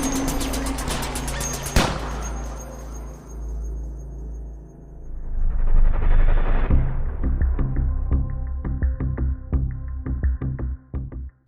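Assault rifles open fire during an armed attack in Pamplona, Philippines: one sharp, loud shot near the start, then a fast, ragged volley of repeated close shots over a low rumble.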